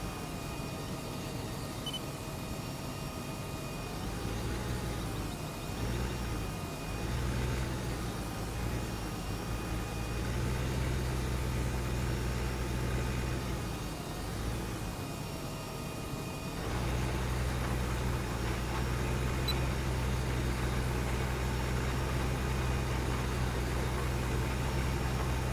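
A farm vehicle engine runs steadily in the video game Farming Simulator 2015, a loud continuous low hum that dips midway with a brief revving change, then settles back to a constant drone.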